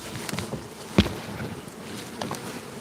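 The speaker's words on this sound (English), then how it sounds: "Damn, there's a bee on the nest." Buzzing of bees near a killer bee nest in a pear tree, a faint, steady insect drone outdoors with scattered rustles and one sharp tap.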